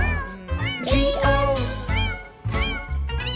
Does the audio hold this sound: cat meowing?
yes